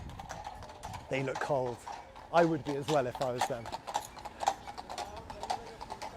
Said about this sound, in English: Oh, we have some horses coming by.